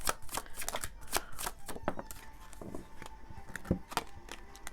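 A deck of tarot cards is shuffled by hand in quick, crisp riffling bursts, close and clear, with brief pauses between runs and no talking.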